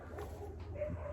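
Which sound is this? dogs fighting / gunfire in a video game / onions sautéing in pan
dogs fighting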